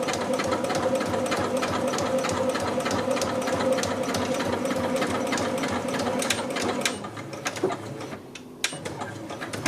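A sewing machine back-stitches in reverse while sewing a machine mat, giving a close, loud mechanical whir with a rapid needle rhythm for about seven seconds, then a few quiet clicks after it stops.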